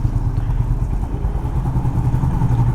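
A Honda CB350RS motorcycle engine chugging in low gear on city streets, a loud, close, steady thumping idle-like rumble with a rough mechanical clatter and no voices.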